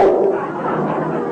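A small dog gives a few yipping barks up close, mixed with muffled voices and sitcom-style room sound.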